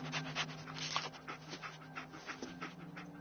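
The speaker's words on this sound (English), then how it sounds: "Dog meat. Get the scent, boy." Dogmeat, the dog companion in Fallout 4, pants and whimpers in quick breathy bursts, close and steady throughout, over a faint low game hum.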